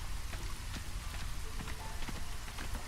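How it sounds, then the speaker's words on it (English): Drizzling rain in the city-builder game Against the Storm, a steady dense patter of droplets hitting surfaces, continuous and fairly close with no voices. "it's currently drizzle"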